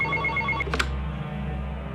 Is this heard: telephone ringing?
yes